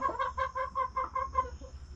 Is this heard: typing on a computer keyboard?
no